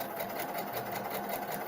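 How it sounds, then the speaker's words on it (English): Sewing machine stitching fabric along a traced line, a steady fast mechanical whir with a rapid even pulse, close and continuous throughout. "Lay it on your fabric and you sew directly on the line"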